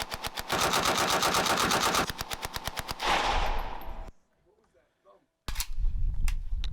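Rapid bursts of AK rifle fire blast out at close range, dense repeated cracks for about four seconds, then a brief near-silent gap before another loud burst resumes.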